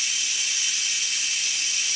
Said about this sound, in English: I'm going to release the pressure manually because I need to cook it some more. So I'm going to let that all steam out